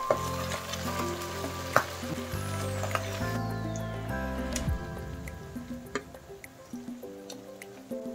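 Milkfish (bangus) dropped into hot cooking oil, a steady sizzling and crackling fry with small pops and bubbling that carries on throughout, close and fairly loud, with no talking.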